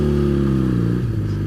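A Honda CB 125 motorcycle engine hums under way, a steady close drone that drops in pitch as the rider eases off partway through, with no speech.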